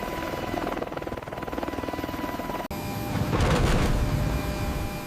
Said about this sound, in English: The aircraft transitions from aerodynamic flight to a hover for landing.